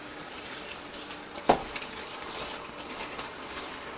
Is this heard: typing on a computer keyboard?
no